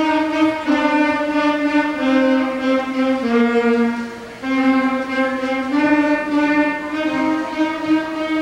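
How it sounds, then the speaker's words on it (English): A school saxophone section in a combined Irving and Longfellow band concert plays a slow melody of held, reedy tones that step up and down, steady and full, with short pauses between phrases and no talking over it. "This would be the sound of the saxophone."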